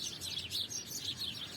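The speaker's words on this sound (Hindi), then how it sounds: "वहाँ पे देखो चिड़िया की कितनी अच्छी आवाज़ आ रही है" Several small birds chirp and tweet in quick, overlapping bursts, fairly close and steady, with no talk over them.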